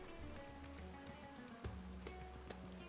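Rain falling in the video game Final Fantasy XIV, a faint, steady patter of drops that continues evenly throughout, with soft game music and ambience underneath.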